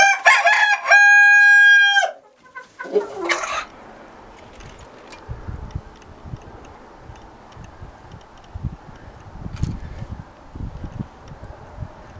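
Chickens being fed on a farm plot: a loud, close rooster crow opens, followed by scattered clucks and pecking taps on the ground that continue quietly.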